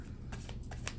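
Tarot cards are shuffled in a quick riffle of soft, papery flicks, a short burst heard close and quiet.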